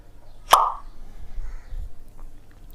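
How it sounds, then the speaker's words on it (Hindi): A single sharp pop of hydrogen gas burning at a bottle-like opening, bright and brief near the start, then quiet room tone with faint low rumble. "पॉप साउंड कैसा आता है, जैसे कि बोतल खोलते हैं तो जैसा आवाज़ आता है उसको बोलते हैं पॉप साउंड"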